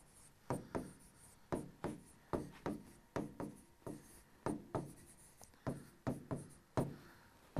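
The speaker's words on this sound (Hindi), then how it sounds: "लिख दूं इसको? लिखते हैं फिर।" Someone writing on a board during a science lecture, with a brisk run of short, close scratching strokes that fall in a quick, fairly regular rhythm and no talking.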